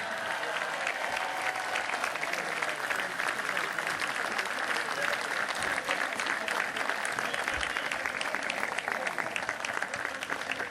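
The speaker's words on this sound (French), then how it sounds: "Et une ovation pour Mandy Graillon, 22e reine d'Arles, s'il vous plaît." Sustained, dense crowd applause at an outdoor rally in Arles, an ovation for the queen of Arles, with steady clapping from many hands filling the whole stretch.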